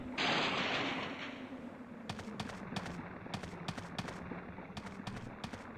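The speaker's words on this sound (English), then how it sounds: "That's like 2 shots." Gunfire in the Resident Evil game: a burst of loud shots at the start, followed by a run of sharp, evenly spaced impulsive cracks over a steady low background hum.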